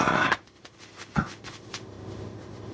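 Playing cards are riffled and snapped together for a tarot reading, a crisp burst of shuffling at the start followed by a few soft taps and flicks as cards are drawn, close and quiet with no talking.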